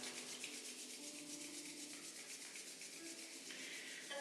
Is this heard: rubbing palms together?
yes